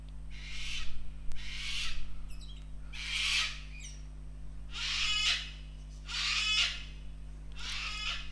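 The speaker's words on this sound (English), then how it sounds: "Don't mind the bird." A bird calls repeatedly indoors during a crochet session, six loud harsh bursts at a steady pace over a constant low electrical hum, with no talking.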